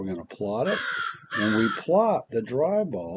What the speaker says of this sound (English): You might have heard the crow in the background.